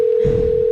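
A telephone tone during a call being placed, a single steady pure note held loud and close for under a second with no talk.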